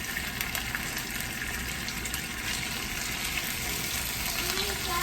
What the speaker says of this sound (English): now I'm gonna mix the frijoles with the chorizo